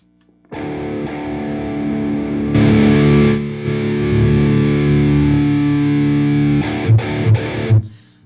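An electric guitar plays through channel 3 of a Mesa Boogie 100-watt three-channel Dual Rectifier amp, sustaining heavy distorted chords for several seconds and ending with a few short palm-muted chugs, loud and close, with no talking.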